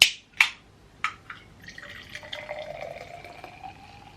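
Fizzy rosé wine poured into a glass, starting with a few sharp clinks and drips, then a steady, rising fill with a light bubbling hiss as the glass fills up, close and fairly quiet.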